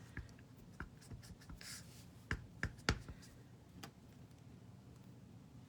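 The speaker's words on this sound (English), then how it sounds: "I'm gonna stamp Happy Birthday here with my Tuxedo Black Memento ink" A rubber Happy Birthday stamp inked with Tuxedo Black Memento ink is pressed down by hand, giving a few close, soft taps and light rubbing sounds in a quiet room.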